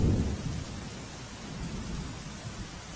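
Rain falls over the Vejalpur area of Ahmedabad in a soft, even patter, with a low rumble at the start. The sound stays fairly faint throughout, and no one speaks.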